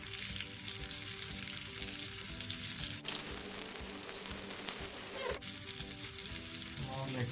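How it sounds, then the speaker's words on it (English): Rawa-coated silver biddy fish fries in oil in a pan, a loud, continuous close sizzle with a steady crackling hiss, broken by two brief clicks, no talk. "I'm going to add some more oil on the fish."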